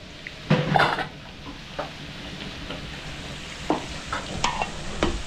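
Pork belly and chili frying together in a pan for kaldereta: steady crackling sizzle with scattered sharp clinks and scrapes of a utensil stirring against the pan.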